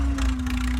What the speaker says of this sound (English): His hand crank starting a 1952 Oliver Super 66 row crop tractor.